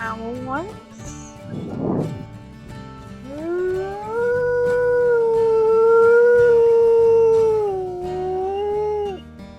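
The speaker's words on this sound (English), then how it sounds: "Gonna howl once." Wolf howling in the game WolfQuest: Hope Creek, a short yip first, then one long, loud, rising and sustained howl that holds steady before tapering, standing alone.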